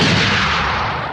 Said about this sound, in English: So you let the old cannon blast